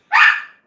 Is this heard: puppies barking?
yes